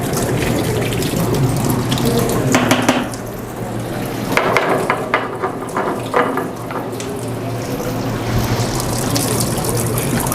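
Running water from a kitchen tap in a cooking class, a steady loud hissing splash into the sink with a few clinks and knocks, no talk.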